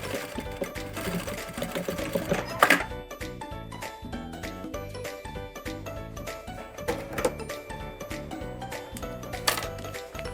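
A sewing machine stitches along the edge of bag fabric, running in a fast continuous mechanical chatter for about ten seconds, close and steady with small bumps in rhythm.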